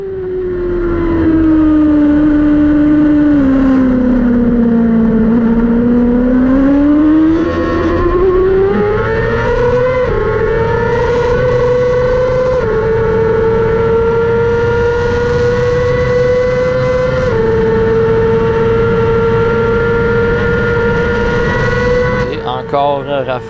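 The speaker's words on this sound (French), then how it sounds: "Encore Rafa avec la puissante Ducati V2 par l'extérieur, mais qui freine un peu trop tôt en entrant dans le 8" A powerful Ducati V2 race motorcycle engine drones loudly and continuously, its pitch climbing and dipping through gear changes as it runs through a racing circuit, close and sustained with commentary voices underneath.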